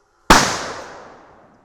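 An SKS rifle fired remotely by a pulled string, a single sharp loud report followed by a long decaying outdoor echo, with no voices.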